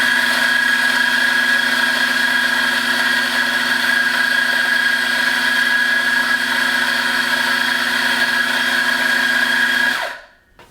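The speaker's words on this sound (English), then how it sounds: "I have my double dose program for 10 seconds at around an espresso grind between the 5 and the 6 on the micrometric adjustment dial" A Mazzer Super Jolly espresso grinder grinding a double dose at espresso fineness, a loud, steady, high-pitched motor whine with gritty burr noise that runs continuously for about ten seconds, then abruptly cuts off.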